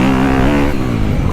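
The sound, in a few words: dirt bike engine accelerating out of corner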